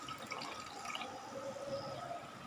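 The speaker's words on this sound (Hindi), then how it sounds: "अरवी को गलाने के लिए आधा गिलास पानी हम यहाँ पे शामिल कर रहे हैं।" Half a glass of water poured into a pan of taro curry, a continuous splashing pour with liquid gurgle and faint dripping throughout, steady and close, with no talk.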